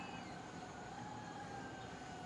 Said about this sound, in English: nope, there's a fire truck